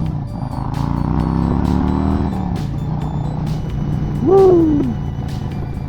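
Harley-Davidson Road Glide motorcycle cruising with a steady low engine drone and wind noise, the rider letting out a brief whoop partway through.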